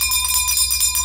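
A bell rung on request rings out in a loud, steady metallic tone that holds with faint rhythmic pulsing through a brief moment, with no one talking.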